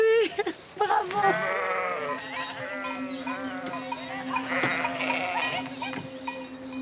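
A flock of sheep bleats in a loud, overlapping chorus, with several wavering calls near and farther off, one after another across the pasture.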